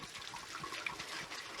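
Running water rinsing muscadine grape seeds after pulp extraction, a steady close broadband splash and trickle holding even throughout, with no voices.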